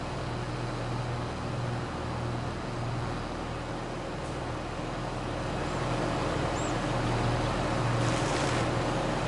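A modded tractor in Farming Simulator 22 runs with a steady, loud engine drone and a low rumbling hum that holds unbroken throughout, with no talking over it.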